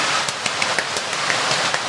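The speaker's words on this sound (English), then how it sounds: "it's raining. It is raining indeed." Steady rain falls in Boracay, a dense even hiss of drops with scattered sharper patters on a surface, close by and continuous, with no voices.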